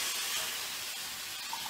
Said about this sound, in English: So I'm going to toss our shrimp in.